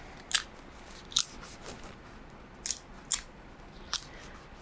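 Tape strips being pulled and pressed onto tiled paper sewing pattern sheets: six short, sharp crackling rips spaced about a second apart over a quiet background, close and alone.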